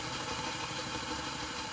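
A Hornby W1 Hush Hush 00 gauge model express locomotive runs fast, giving a steady, even motor whir and rattle that holds level throughout, close by and moderately loud.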